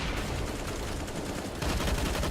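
Rapid automatic gunfire sprays in a Counter-Strike match, dense overlapping shots that swell louder toward the end of the burst.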